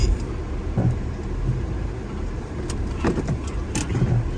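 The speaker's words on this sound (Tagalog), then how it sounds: "park lang natin itong kotse natin" A car rolls slowly into a parking spot, a low steady engine rumble with faint clicks and jingles, no talking.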